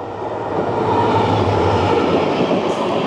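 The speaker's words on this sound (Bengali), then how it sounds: "দেখতে পাচ্ছেন বন্ধুরা, হর্তকি স্টেশন স্কিপ করছে গুয়াহাটি সাইরাং এক্সপ্রেস।" The Guwahati–Sairang Express passing through Hortoki station without stopping makes a loud, steady rumbling roar of wheels and carriages that holds for the whole stretch, with no voices.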